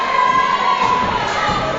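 A wrestling event crowd cheering and shouting, a dense continuous roar with a sustained high whistle or shriek running through it and no clear talk on top.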